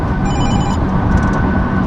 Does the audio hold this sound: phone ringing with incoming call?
yes